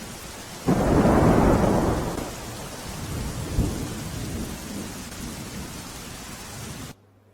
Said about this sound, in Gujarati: ફરી એકવાર ધોધમાર વરસાદ વરસી રહ્યો છે